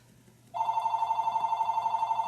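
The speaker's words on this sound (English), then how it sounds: "I'm going to let that ring until my husband, who is out in his workshop working on his model airplanes, answers the phone" A home telephone starts ringing after a half-second of quiet, its bell trilling rapidly and steadily at close range.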